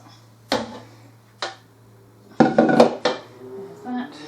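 A spoon clinks and knocks against dishes while making soap, sounding as a few separate sharp taps followed by a cluster of rattling clatter, close and fairly loud over a low steady hum.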